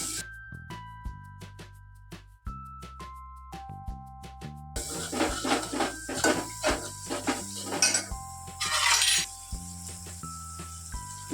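Utensil scraping and clinking in a pan as turmeric, salt and garlic chutney are stirred into a Rajwadi dhokli vegetable curry, repeated metallic clinks over steady background music, louder and busier in the second half.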